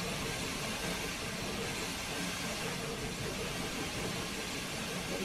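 A diesel locomotive in a train simulator labours up the Sherman Hill grade, giving a steady, dense rumble and hiss that holds evenly throughout with no clear voices.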